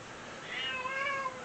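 A pet cat lets out a single drawn-out meow, clear and fairly close, with no talking over it.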